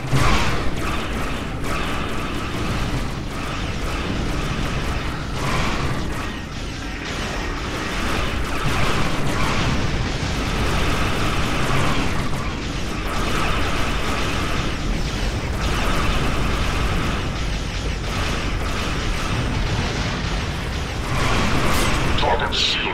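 Starship explosions during a Star Trek Online space battle against Breen and Jem'Hadar ships form a loud, nearly continuous barrage of booms and rumbling blasts, with voices speaking over the din.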